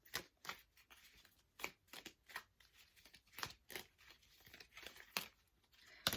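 Tarot cards are shuffled and drawn by hand: a close, uneven run of crisp papery flicks, slaps and riffles with short pauses between bursts, no talking.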